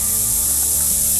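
A short, steady hiss of roe deer scent spray being released in the hunting game Call of the Wild, continuous and fairly loud for about a second.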